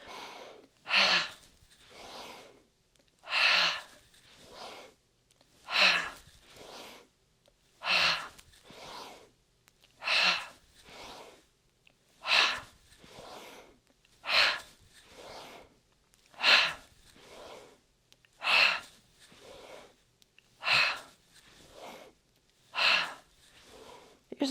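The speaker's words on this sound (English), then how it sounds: "Inhale through the nose." Deep, slow breaths drawn in through the nose and pushed out through the mouth in a breathing exercise, about ten even inhale-exhale cycles, close and clear with quiet pauses between.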